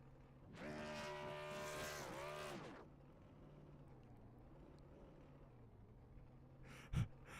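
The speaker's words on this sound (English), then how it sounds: "As a great burnout from the 1 car" Burnout of the number 1 car in a sim racing game at Homestead Speedway: a loud, rising engine roar with harmonic whine for about two seconds, then a quieter steady drone, with a brief sharp burst near the end.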